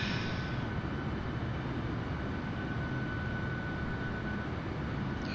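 Steady, loud broadband roar of a light airplane engine and airflow in Microsoft Flight Simulator while flying into Hurricane Paulette, continuous and unbroken throughout with no talk over it.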